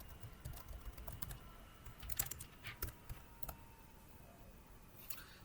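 Quiet, irregular tapping of a computer keyboard as C# code is typed, soft keystrokes clustered in short runs with a few sharper clicks and no talking.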